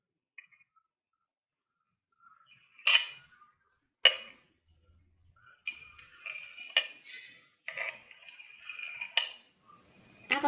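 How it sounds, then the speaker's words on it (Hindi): A knife cutting set strawberry jelly into pieces on a plate, giving sparse clicks and taps of the blade against the dish, irregular and close, with quiet gaps between cuts. "जेली जो हमने अपनी तैयार कर ली थी इसको भी हम पीसेस में कटिंग कर लेंगे"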